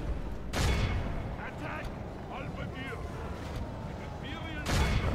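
Empire mortars firing in a Warhammer battle game, two loud booming blasts near the start and end over a continuous battle rumble, with faint voices between.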